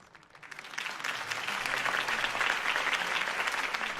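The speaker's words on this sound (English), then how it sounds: "could have heard that applause" Crowd applause at a campaign rally in the Batman Telltale video game, a broad sustained clapping that swells in over the first second and holds steady and full, no talking.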